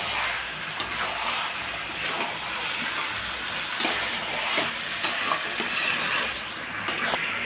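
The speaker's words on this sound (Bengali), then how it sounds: "তো দেখো বেশ সুন্দর একটু হালকা হালকা করে কষিয়ে নিচ্ছি" Mutton sautéing in a pan with chili powder and coriander powder gives a steady, close sizzle, stirred continuously, with faint scraping ticks throughout.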